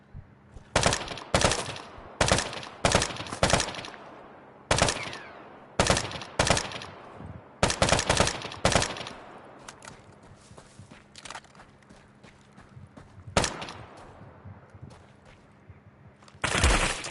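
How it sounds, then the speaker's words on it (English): Video game gunfire aimed at the player, loud sharp shots in irregular bursts and clusters, some rapid volleys, with quieter gaps of background rumble between them. "There's more people shooting at me?"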